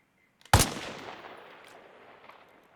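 One sharp, loud sniper rifle shot with FMJ ammunition rings out in Arma Reforger, fired at a target 100 meters away, followed by a long, fading echo rolling off into the distance.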